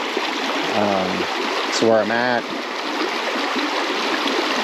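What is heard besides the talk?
clear mountain creek flowing, Badger Creek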